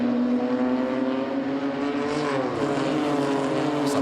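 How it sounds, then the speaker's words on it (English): A pack of BMW M2 Cup race cars accelerates out of a turn at the Lausitzring, a loud sustained engine roar with overlapping revving tones from several cars. "So the cars all accelerate out of the turn."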